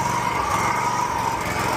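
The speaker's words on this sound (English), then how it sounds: "So let's get into the mowing." A lawn mower runs steadily through a mowing pass, its engine drone loud, close and unbroken, with no voices.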